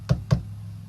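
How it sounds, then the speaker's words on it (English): Two firm knocks on a wooden front door, close and evenly spaced, followed by quiet, used as a sound effect in a fairy-tale reading. "she heard a knock at her front door"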